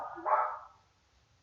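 A neighbor's dog lets out one short bark, fairly close and clear, then falls quiet over faint background hum.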